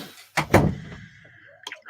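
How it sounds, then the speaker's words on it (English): A door shut at home, heard as two close, solid thumps in quick succession, followed by a faint knock and a brief rattle. "Shut the door!"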